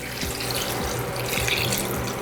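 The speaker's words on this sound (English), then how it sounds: "you want to start with cold water. So I have cold water ready to go. And we put in enough just to cover the meat and the veggies" Cold water pours in a steady, rushing stream over beef bones and vegetables in a pot for bone broth, a continuous splashing wash heard up close without talk.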